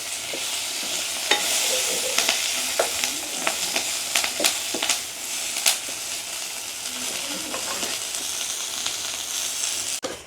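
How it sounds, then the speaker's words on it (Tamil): Dried red chillies and curry leaves frying in hot oil for a village tempering, a continuous bright sizzle with scattered crackles and pops, close and fairly loud throughout, no speech. "அப்படியே செத்தல் மிளகாய் கொஞ்சம் அப்படியே பொரியட்டுக்கும்."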